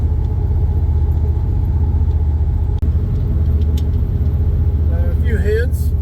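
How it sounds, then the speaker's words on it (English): Steady low engine rumble from inside a car towing a small car trailer over a bumpy, bouncy road, continuous and fairly loud, with a brief knock midway and faint chirps near the end. "Sorry about this road. It's kind of bouncy with this trailer on it."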